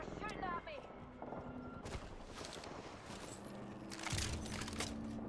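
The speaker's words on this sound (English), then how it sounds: "They're shooting at me" Enemy gunfire in a sci-fi shooter game, bursts of shots crackling in the background while the player's shields recharge, with a person talking over much of it and a louder volley near the end.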